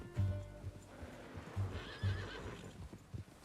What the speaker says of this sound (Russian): Это чё, конь?